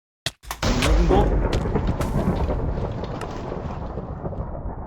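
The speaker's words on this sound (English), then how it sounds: "Lightning Bolt" In Minecraft, a lightning bolt strikes with a sudden sharp crack followed by a deep rolling rumble that fades slowly over several seconds, loud and close.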